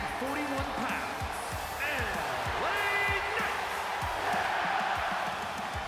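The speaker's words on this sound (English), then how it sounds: "The fans love L.A. Knight, the passionate crowd of Toronto, cheering the megastar on." Arena crowd in the WWE 2K25 wrestling video game, cheering for a wrestler in Toronto: a constant loud roar of many voices with scattered whoops and thuds, while a commentator talks over it.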